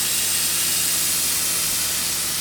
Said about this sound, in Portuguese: o som que o spray está produzindo aqui está sendo um som mais liso